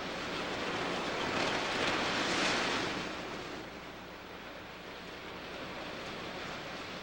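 Surf washing onto a beach in Hokkaido, with a steady broad roar of breaking waves that swells around the middle and then eases to a softer, continuous wash, touched by wind.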